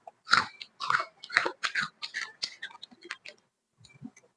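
Sharp crunchy bites into potato chips during a chips eating challenge, a quick series of close, loud crisp snaps and crackles, with brief pauses in between and then a faint trailing crunch.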